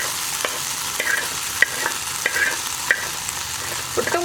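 Boiled carrot and raw plantain stir-fried for mezhukkupuratti, a close steady sizzle under a string of scraping spatula strokes and light metallic clicks at irregular intervals, with no one speaking.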